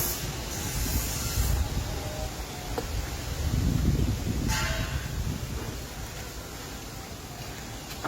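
Cabbage tipped into a pan of food cooking for pet dogs, giving a steady sizzling hiss that swells briefly, with a few faint knocks and no talking.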